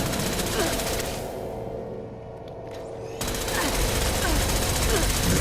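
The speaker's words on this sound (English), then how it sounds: "Try the plasma gun." A plasma gun in Fallout 76 fires in loud, rapid bursts, pauses for about two seconds, then resumes with dense continuous fire close up.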